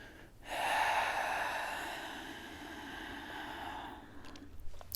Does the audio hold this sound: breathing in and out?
yes